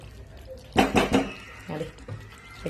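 Mushroom masala stirred in a pan, with a few quick metallic scrapes and clanks of a spoon against the pan, close and brief, followed by softer scraping.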